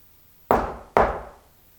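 Two loud, sharp knocks on a wall inside an old reportedly haunted house, about half a second apart, each one ringing out and fading, with no voices around them.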